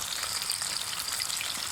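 Chicken pieces for crispy fried chicken sizzle in hot oil with a steady, bright crackle, close and even, with no voices.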